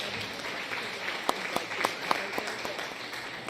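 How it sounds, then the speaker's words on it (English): A crowd's applause with scattered sharp claps standing out, moderate in level and steady for a few seconds. "Somebody just played the applause sound effect for her taking off her pants"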